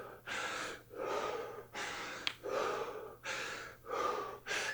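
Heavy, deep breaths drawn in and pushed out during recovery after a HIIT cardio interval, about six even cycles with short gaps between them, close and fairly loud, with no talking.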